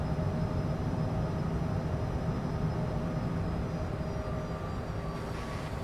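Steady cabin drone of a Cessna CJ4 business jet in flight in Microsoft Flight Simulator 2024, a continuous even roar with faint high whining tones, alone and constant throughout.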